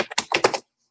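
Rapid computer keyboard typing during a Git clone demonstration, a quick burst of close, crisp key taps lasting about half a second before stopping abruptly into silence.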